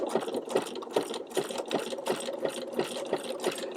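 A sewing machine stitches a short satin stitch on fabric, running at a steady pace with a regular chugging needle beat, fairly close and alone.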